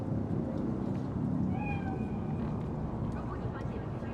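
A cat gives a short rising meow amid the city ambience of Cyberpunk 2077, faint and brief above a steady low rumble of background noise.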